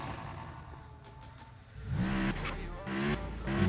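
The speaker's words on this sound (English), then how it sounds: "So I'm gonna just go ahead and test this car out." A car accelerating in the video game GTA San Andreas, engine quiet at first then revving up loudly with rising whine and shifting gears, no talking.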